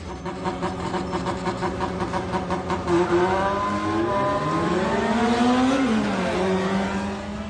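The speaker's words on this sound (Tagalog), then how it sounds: "Ang maingay na revolusyon ng selinyador ng mga kotse sa 10 oras pa naman ng gabi" Cars with loud mufflers rev and race late at night on Marcos Highway in Pasig, a continuous roaring engine drone with rising and falling revs, rapid pulsing exhaust and a sweeping pass, loud and steady throughout.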